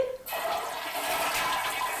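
A chain-pull toilet flushes after a brief click, then water gushes out loudly and keeps rushing in a strong, steady stream to the end.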